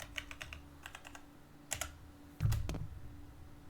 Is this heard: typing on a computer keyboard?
yes